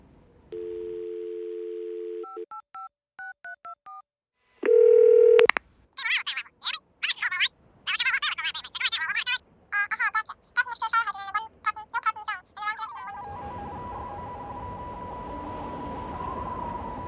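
Landline telephone tones after a call is cut off: a steady tone, short beeping signal tones, then a loud held tone and a long stretch of choppy warbling beeps, ending in hissing static.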